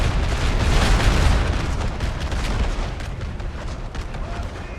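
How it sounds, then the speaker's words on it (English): Artillery fire in a large Napoleonic-era battle video game, heavy booming cannon shots rolling over a noisy battlefield, loudest early and then settling into a steady, dense rumble of distant guns and musketry. "Great artillery shots right now, carving through some Demi Brigade break."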